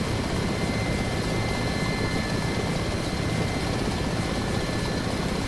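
A Ka-50 Black Shark attack helicopter sets down on a runway in the DCS combat flight simulator, a loud, constant whirring rotor and engine roar with no pause and no talk.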